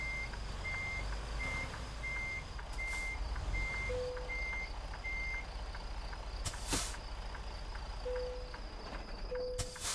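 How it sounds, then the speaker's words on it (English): A delivery truck backing up at a roadside road-construction site gives a run of evenly spaced, high reversing beeps, later a few lower tones, over a low engine rumble, with a couple of sharp clanks and hisses. "Backing up my load here at a construction site"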